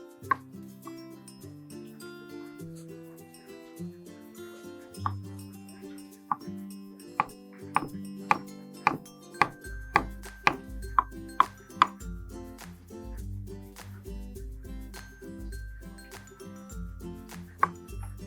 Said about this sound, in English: Thinly sliced cucumber.